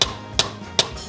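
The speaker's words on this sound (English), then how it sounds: "The third method is to hit it on the plate." A marrow bone is knocked against a plate three times, each sharp hard knock evenly spaced about four tenths of a second apart, close and distinct with quiet between.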